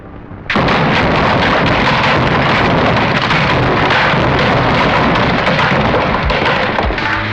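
A bomb goes off in an emptied housing colony, a sudden loud blast followed by a sustained, dense roar of rumbling debris and crackling that stays at full intensity for several seconds.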